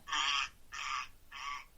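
A bird being handled and checked for its sex gives three loud, harsh honking squawks, each about half a second long with short gaps between them, close by with no talk.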